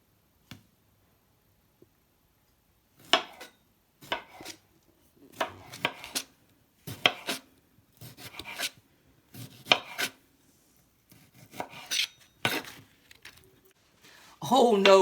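A knife chops fruit on a board in a series of sharp, close cuts, spaced irregularly with brief pauses between bursts, and a voice breaks in at the very end.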